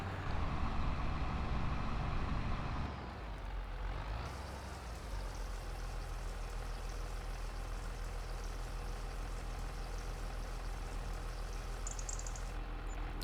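A tractor engine idling in Farming Simulator 25, a continuous low diesel drone that softens slightly after about three seconds, then runs on steadily and alone.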